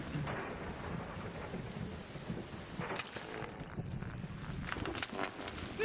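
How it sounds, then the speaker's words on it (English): A thunderstorm rumbles in ARC Raiders, with steady rain and low thunder rolling beneath sharper crackling bursts of lightning strikes near the middle and end. Faint footsteps shuffle through the downpour. "Beware the lightning strikes."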